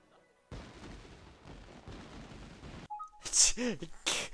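Fireworks launching and popping in the Ni no Kuni video game, with a steady crackling rumble followed by brighter whistling bursts and bangs near the end.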